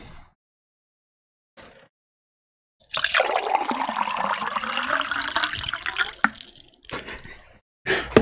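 Water glugging and splashing out of a giant jug in a bedroom, a loud pour lasting several seconds with gurgling, then brief follow-up bursts.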